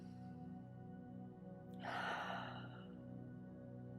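A single deep, slow breath drawn and released during a quiet Qigong session, swelling into a soft airy rush midway through and fading back into a calm, still room with a faint steady hum.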